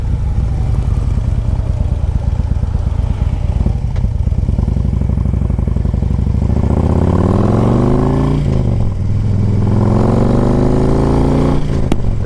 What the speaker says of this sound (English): 2008 Harley Davidson Ultra Glide Classic anniversary bike